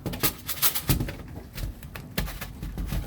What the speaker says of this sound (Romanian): Porumbeii mei